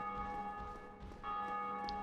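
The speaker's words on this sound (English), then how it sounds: "I've heard the bell chime about 3 times, which is for a gargoyle clear." Church-style bell chime from the Dark Souls video game, a sustained tonal ringing with steady overtones and a slight restrike midway, held at moderate level against a low ambient background.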